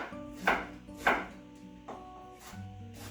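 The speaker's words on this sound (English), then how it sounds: "And I just have one red onion here. And rough chop again." A knife rough-chopping a red onion on a board, giving four or five sharp, evenly spaced chops, close and clear over a faint background hum.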